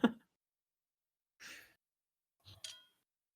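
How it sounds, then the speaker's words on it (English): A man mouth breathing in a quiet scene, three soft breathy bursts separated by long silences: one sharp exhale at the start, then two fainter airy breaths, with no talk. "Mouth breathing. Hear him?"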